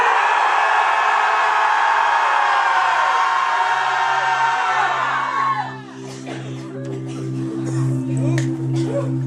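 A church congregation lets out one big, loud collective shout that rings for several seconds, then drops off into a low murmur over a steady hum.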